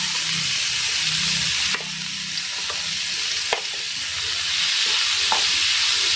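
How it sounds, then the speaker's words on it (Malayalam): Chopped onions frying in hot oil for an egg pepper masala give a loud, steady sizzle and hiss, with a few sharp clinks of a utensil stirring the pan. "അപ്പോൾ നമ്മളിത് ഇതിലേക്ക് ഇട്ട് കൊടുക്കാം."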